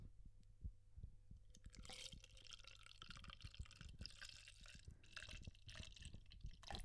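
Drink poured into a Parks and Pals merch cup, a faint close-up trickle and drip of liquid with soft splashes over several seconds, quiet and intimate.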